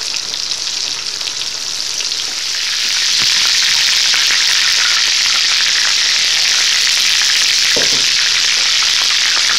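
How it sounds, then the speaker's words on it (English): Loud, steady sizzle of food frying in a pan for dirty rice, a dense hiss that swells after a few seconds and holds, with a faint clink near the end. "All we're going to do, fry them for a little bit, flip them over, take them out when they're golden brown"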